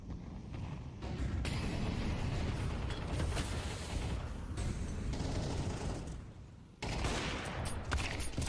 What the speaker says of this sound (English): A flurry of frags at the start of the round